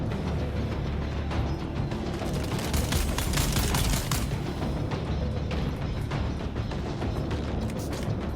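Dense, continuous volley of dart gunfire in Dune: Awakening, a rapid stream of sharp shots and booms blending into a steady roar for the whole stretch with no pauses, loud and close.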